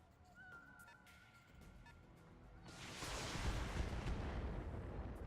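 Weapon fire slamming into buildings in a mech combat video game, a sudden heavy roaring burst of blasts that swells and holds loud, with sharp clicks before it.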